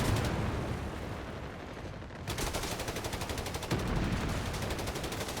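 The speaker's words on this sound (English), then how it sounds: ".88 just shooting at the infantry." Rapid, loud bursts of artillery and machine-gun fire from an 88 gun shooting at infantry in the Company of Heroes 3 strategy game, dense overlapping shots that continue with no talk.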